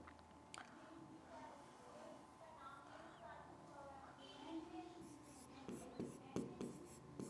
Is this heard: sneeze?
no